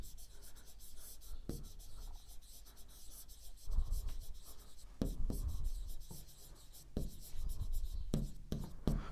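Pen or chalk writing out the Pythagoras theorem during a maths lesson, close and continuous scratching strokes with short pauses between words and a few sharper taps, quiet and alone with no talk.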